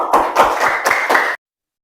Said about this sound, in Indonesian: diberi aplaus pada teman kalian yang menyelesaikannya